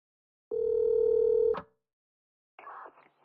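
A phone dial tone rings out in the video game Blue Archive as one steady, clear tone lasting about a second, then a brief electronic blip after a short silence.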